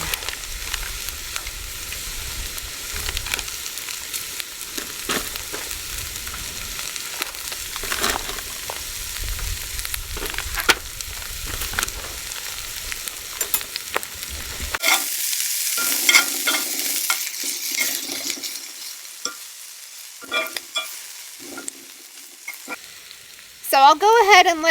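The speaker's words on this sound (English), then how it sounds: "So while the veggies are cooking, I'll go ahead and take the fish out and start seasoning it." Vegetables frying in a pan on a wood stove at a van-life campsite. A steady close sizzle with occasional stirring scrapes runs throughout, shifting to a brighter hiss partway through, with a few louder clanks near the end.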